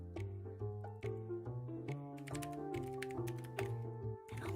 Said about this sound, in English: We'll type this in here.